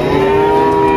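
A cow gives a deep, sustained moo at a cattle market in Pasar Muntilan, where Limousin and Simmental cattle are traded. The call is loud and close, filling the whole moment without any talking.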